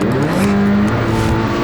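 Nitro Rallycross race cars launch off the start line with loud, close engine revving and wheel spin, the roar rising as the pack accelerates away, without any talking.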